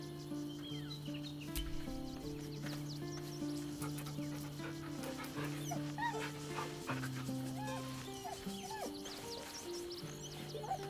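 A dog in Baldur's Gate 3 whimpers and yips with a small bag in its mouth, repeated whines near and clear over steady low musical tones.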